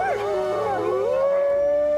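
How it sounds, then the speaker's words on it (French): A wolf lets out a single loud, close howl that wavers at first and then settles into a long, sustained note. "S'il hurle, le soir venu, c'est pour retrouver les autres membres de sa meute ou pour inviter son clan à la chasse"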